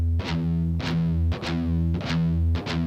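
Heavily distorted electric guitar chugging pedal tones, a steady low drone punctuated by sharp, repeated picked accents in a quick, driving rhythm, loud and up close.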